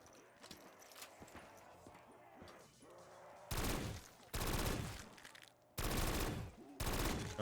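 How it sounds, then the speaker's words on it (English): A gun in a zombies tower map shooter fires in long, loud continuous strings of rapid shots, preceded by quieter scattered clatter and separated by brief breaks. "if I don't stop hitting the fire button, this gun seems to do quite well"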